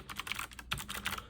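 Keys on a Logitech MX Mechanical Mini keyboard click in a quick, close run of crisp tactile presses, about a dozen light strokes with no voices.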